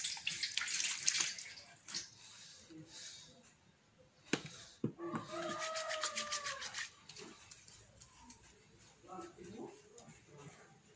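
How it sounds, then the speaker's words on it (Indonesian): Hands are rubbed together under a running tap in a medical setting, water splashing and swishing steadily at close range. "Mencuci tangan dengan 6 langkah."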